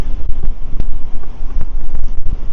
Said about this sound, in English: There's a strong wind blowing down here.